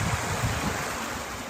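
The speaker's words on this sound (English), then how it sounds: "There's the creek down there, you can hear it." Chelsea Creek rushes over river rocks below a hiking trail, a continuous broadband wash of flowing water heard from a short distance with no one speaking.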